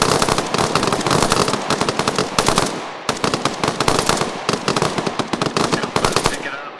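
Sustained automatic machine gun fire in the military video game Arma, loud and close, with rapid bursts running almost continuously and only brief pauses between strings of shots.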